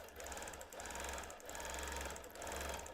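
A sewing machine quilting boomerang shapes across a seam line on a quilt made without batting, running as a steady, fast mechanical whir broken by a few brief pauses.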